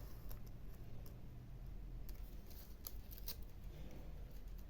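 Scissors cutting through paper for an art journal page, giving a run of brisk snipping clicks close by over a low steady background hum, with no voices.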